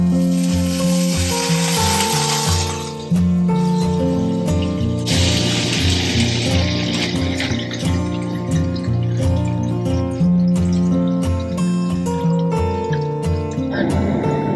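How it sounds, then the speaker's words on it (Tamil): Butter, 500 grams, melting and bubbling in a pan as it is cooked down into ghee; a steady, continuous close sizzle with fine crackling runs throughout, alongside a constant background hum. "நம்ம வெண்ணெயை போட்டு அந்த பதம் வந்துட்டு நம்ம இறக்க வேண்டியதுதான்"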